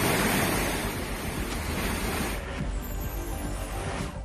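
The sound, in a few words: rushing flash flood water after a cloudburst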